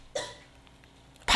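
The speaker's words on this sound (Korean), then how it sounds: "기침한다" A single sharp cough bursts out near the end of a short gap in a church sermon, loud and close, with a fainter throaty sound earlier.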